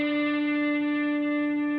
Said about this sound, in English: you're going to slide all the way up to the 7th fret of your G